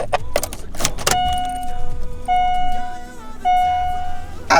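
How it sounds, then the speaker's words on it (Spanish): A car being switched off while a car radio is fitted gives a chime repeating in three short tones, with clicks and a light jangle of keys near the start and a voice talking over parts. "desconecto el coche"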